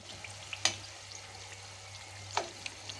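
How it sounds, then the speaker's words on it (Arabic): Potato slices frying in hot oil in a pan, a steady soft sizzle with a couple of sharper crackles and spatters standing out from the continuous hiss. "هنا بقى ابتديت اقلي البطاطس زي ما انتم شايفين خدت لون"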